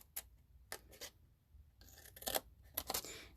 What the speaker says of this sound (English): I'm going to go in with my snips, and I'm going to cut the 2 tabs in the center